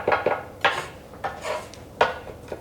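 A sharp knife cuts up food in a bowl with a series of crisp, irregular chopping knocks and scrapes, fairly close and with no talk over them.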